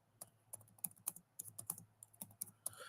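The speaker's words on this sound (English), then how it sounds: "I'm all typing like a fucking first grader" Someone types on a new computer keyboard, close and fairly quiet, with uneven bursts of crisp key clicks and short pauses between them, and no talking.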